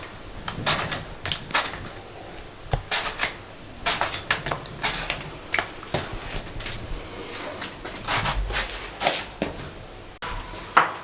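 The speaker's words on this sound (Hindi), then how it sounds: "इसको ऐसे काट लें बैंगन को, बहुत टेस्टी क्रिस्पी बनेंगे।" A knife slicing eggplant on a cutting board for pakora and chips, heard as close, crisp chopping clicks in quick irregular bursts separated by short pauses, with no talking.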